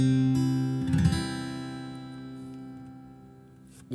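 A single fingerpicked acoustic guitar chord, fretted with a finger on the first fret of the B string, rings out clearly with a light strum near the start, then decays slowly, alone and close.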